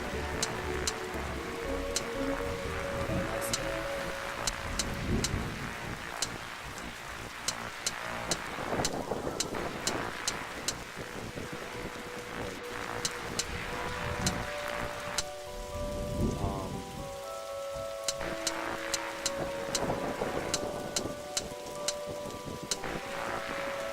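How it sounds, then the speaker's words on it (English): A rainstorm from The Darkside Detective video game brings continuous heavy rain pattering on surfaces, with deep rolls of thunder swelling several times and sharp dripping ticks throughout. "Look, Detective, the storm is dying out."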